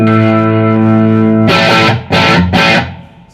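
An electric guitar played through an amp with a classic rock tone rings out as a loud, sustained distorted chord, then three hard, rhythmic strummed chords in quick succession that fade at the end. No voices.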